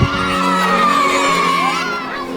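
Excited children shout and cheer together as a food delivery car pulls up in Papua, a loud, continuous crowd of young voices whooping throughout.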